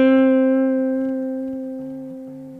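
A single guitar note on the fifth fret of the G string, sustained and ringing close and clear alone, gently wiggled with vibrato as it slowly fades.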